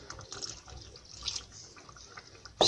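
Water added to a pot of Tunisian lentil stew: a soft, faint trickle and liquid splashing with small drips, close but quiet, ending in a brief louder clatter.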